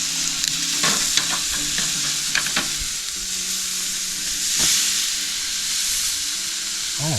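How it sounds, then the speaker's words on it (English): Butter melts and sizzles in a pan during weekend truck camping, a steady soft frying hiss broken by a few clicks and scrapes, moderately close and with no talking. "We'll let the butter melt"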